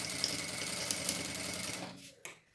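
Sewing machine stitching EVA foam for a scrap-foam bag, a dense steady mechanical whir with rapid needle clatter running continuously, then slowing and stopping near the end.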